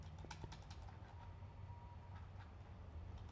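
Computer keyboard typing, a quick flurry of light clicking keystrokes that trails off into sparser taps over a faint steady background hum.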